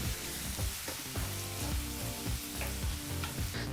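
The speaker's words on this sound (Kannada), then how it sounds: "ಫ್ಲೇಮ್ನಲ್ಲೇ ಈರುಳ್ಳಿನ 2 ನಿಮಿಷಗಳ ಕಾಲ ಚೆನ್ನಾಗಿ ಫ್ರೈ ಮಾಡ್ಕೋಬೇಕು ಎಣ್ಣೆಯಲ್ಲಿ" Sliced onions sizzle and crackle in hot oil in a pan for a drumstick gravy, a steady close frying hiss broken by regular stirring scrapes.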